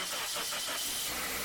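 A car engine runs steadily at idle during an oil pressure test on a vehicle with a low oil pressure warning light, a low even hum with faint rhythmic pulsing, alone and fairly quiet.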